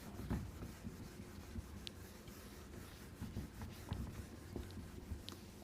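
Marker or chalk writes on a board during a Class 10 trigonometry maths lesson, giving faint, steady scratching strokes with a few brief taps and no speech.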